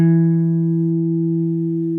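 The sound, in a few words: guitar notes, ring finger on third string, second fret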